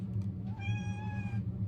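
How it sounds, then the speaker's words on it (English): A pet cat named Willow lets out a single drawn-out meow, clear and fairly close, rising and holding briefly before fading, over a low steady room hum with no talking. "my cat's saying hello"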